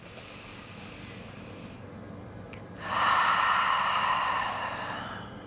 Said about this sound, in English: Take another last deep breath here in this twist.